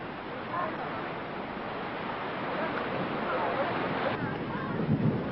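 Steady roar of surf and gusting wind at Bondi Beach, Australia, a broad continuous wash of breaking waves with wind buffeting the microphone throughout.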